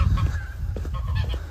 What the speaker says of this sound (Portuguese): Ó, as aves estão gritando.